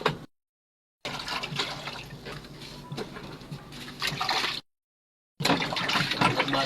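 Tap water runs steadily while dishes are rinsed during washing up after a meal, a broad close hiss broken by two short silent gaps where the flow stops, with faint clinks of dishware underneath.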